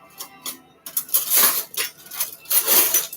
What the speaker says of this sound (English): I'm going to use a spoon.